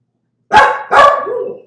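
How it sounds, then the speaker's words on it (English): Two loud, close dog barks in quick succession, the second trailing into a longer whine-like tail, breaking through an otherwise quiet room. "I've got dogs"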